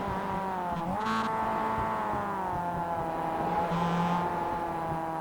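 Mazda MX-5 race cars circling Mount Panorama, their engines droning as a steady overlapping whine with a brief surge of a car passing close, constant and loud throughout with no talk.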